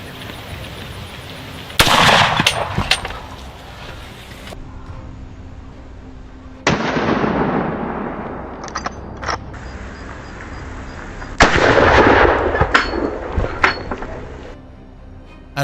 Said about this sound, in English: A volley of shots rang out, sealing the fate of all.